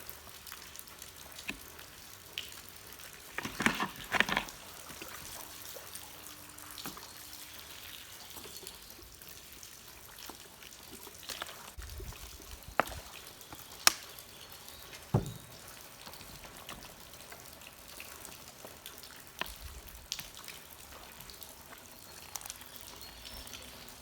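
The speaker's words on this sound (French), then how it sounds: "Et là, j'arrose, ou plutôt j'inonde, jusqu'à ce que ça dégouline." Water sprinkles and trickles onto a tray of soil sown with chicory seeds, a quiet, steady patter with scattered drips and splashes, and no voices.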